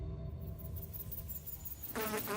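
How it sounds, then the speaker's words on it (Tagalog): Large flies buzz faintly around a quiet room, a thin continuous drone that swells louder near the end as one passes close. "Mga pesteng langaw na yan. Saan ba galing ang mga yan at pumapasok dito sa kwarto?"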